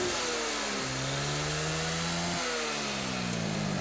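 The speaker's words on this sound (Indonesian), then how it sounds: "untuk suara ngiung seperti ini yang tidak begitu besar" A Yamaha Mio Soul carburetted scooter runs with a steady mechanical whine from its final drive gearbox, the pitch stepping up and down with the engine revs. The whine sounds close and continuous, with no talking over it.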